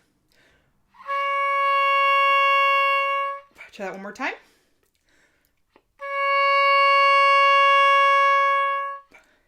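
Two long, steady reedy oboe notes held on the same low D flat, separated by a brief spoken phrase.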